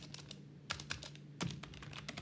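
An SQL query is typed on a computer keyboard as a close run of crisp clicks, with a few louder, heavier keystrokes standing out in an irregular rhythm and no talk.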